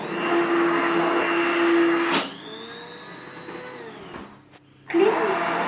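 An electric mixer whirs steadily through pancake batter made with flour and baking powder, a loud motor drone that dips to a lower hum, cuts out briefly and then revs up again.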